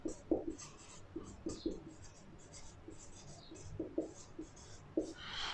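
Chalk or marker writing on a board during a class 11 maths lesson: repeated short scratchy strokes in quick bursts, close and fairly quiet, with a few pauses between words.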